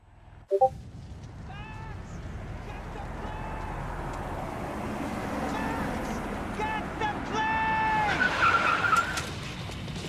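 Car driving and skidding in the video game Max Payne 3, with a steady engine roar and tire squeals building over the last seconds, under game music and a sharp hit near the start.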